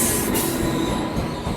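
A train pulls out of Ballarshah railway station in a loud, continuous rush of rolling wagons and squealing wheels, close by, with no talking.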